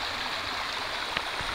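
A creek flows steadily over rocks in the woods, a constant close rushing and gurgling of water with no voices.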